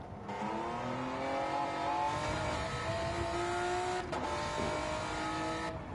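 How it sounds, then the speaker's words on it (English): A race car engine held at full throttle during an autocross-style competition round, a loud sustained high-pitched roar with rising harmonics and a brief dip near the end, no talking. "So it seems okay on full throttle, this car."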